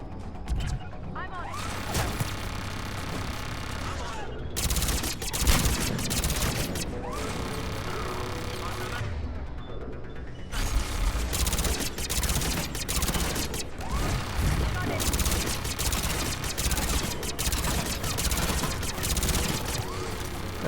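Turret gunfire in the video game Mass Effect 3 rattles in dense, sustained bursts with metallic crashes and mechanical clatter, nearly continuous across the stretch and broken by a couple of short gaps.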